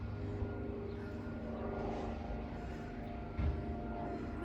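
A propeller airplane drones overhead in a steady, moderately loud hum that rises slightly and fades, heard from indoors during a home bodyweight workout, with no talking.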